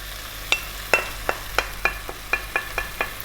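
Mutton meat mixture frying in a masala pan for a spicy Rajasthani curry, with a utensil scraping and knocking the pan in quick regular strokes over a steady close sizzle.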